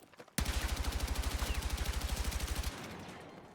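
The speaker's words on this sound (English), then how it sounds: "if I full auto it at close range so that spread isn't a huge concern" Full-auto gunfire from a weapon in Battlefield 6, a rapid, steady burst of about two dozen evenly spaced shots lasting just over two seconds, loud and close, ending in a short reverberant tail.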